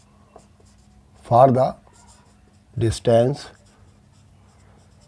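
A formula being written on a board during a Class 9 maths lesson on finding distance, faint scratchy strokes running quietly beneath someone speaking in Hindi.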